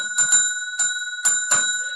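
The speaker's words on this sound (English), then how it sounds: "Ring the ding dong bell" A bright bell ringing in five quick strikes, the first two close together and the rest evenly spaced, each with a long ringing tone, loud and alone.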